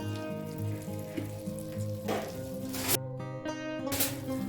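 Butter melts and sizzles in a hot pan while chicken gravy is being cooked, giving a steady close frying hiss with crackles and no voices.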